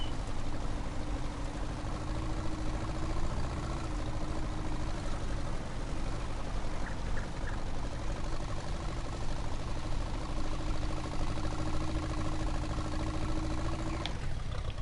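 A tractor engine idling in Farming Simulator 19, a steady low rumble with a faint whine holding evenly throughout, ending in a brief clunk near the close.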